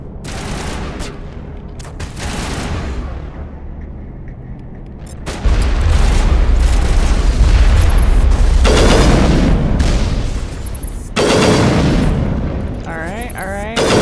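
Gunfire and explosions from Mass Effect 1 Legendary Edition, with dense volleys and heavy booms that swell loud in the middle, under people chatting.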